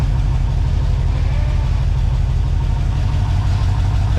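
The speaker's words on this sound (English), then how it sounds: "Definitely a misfire." A 1947 Chevy 1-ton truck engine runs steadily with a misfire, a loud, close, continuous low rumble with an uneven pulsing beat and no talk over it.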